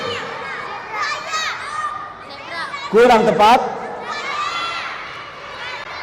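A crowd of children shouts and cheers together in a classroom, loud bursts rising over an adult voice that keeps talking, with the loudest shared yell near the middle.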